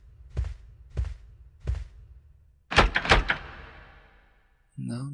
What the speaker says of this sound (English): Guess we could check this other door here.